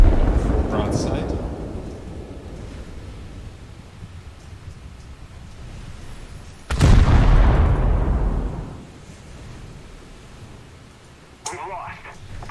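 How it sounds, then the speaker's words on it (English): A battleship unleashes a full broadside of its guns in the naval combat game War Thunder: one massive, loud boom erupts mid-clip and rolls off into a long rumbling decay, with a smaller blast near the end over steady low background rumble. "Full broadside."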